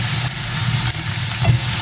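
Onion and cumin seeds frying in hot oil with garam masala, giving a steady close sizzle with no speech.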